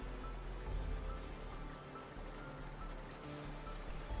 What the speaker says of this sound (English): the sky continued to its soft drizzle